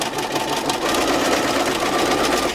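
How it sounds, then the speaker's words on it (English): A sewing machine runs steadily with a dense, even mechanical whir as it stitches black thread along a fabric edge, close and continuous with no talking. "I'm going to stitch it all along the edge here."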